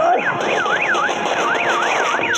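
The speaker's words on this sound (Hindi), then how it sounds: "कार का अलार्म बज रहा है।" A car alarm wails in a loud, continuous rising-and-falling sweep, repeating steadily at close range with no pauses.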